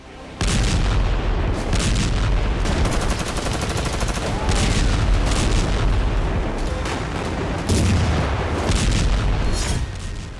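Explosions from an IDF air strike bombardment in Khan Yunis, a loud, relentless barrage of booms and rapid blasts layered into a continuous roar for about ten seconds.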